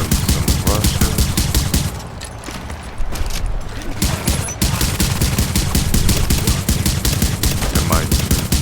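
An automated turret fires in The Division during a firefight against Russian enemies, a loud, rapid stream of gunshots with a short lull before the barrage resumes, dense and continuous.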